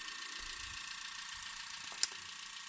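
Car engine fitted with EZ EFI 2.0 fuel injection and an MSD ignition, idling very slowly at about 400 rpm. It makes a faint, steady low rumble under a constant hiss, with one brief click near the end.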